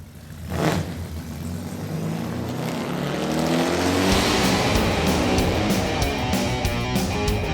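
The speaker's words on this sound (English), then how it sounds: "start your engine!" A car engine cranks and catches with a sharp burst, then revs up steadily into a loud, rising roar that keeps building, with no one speaking.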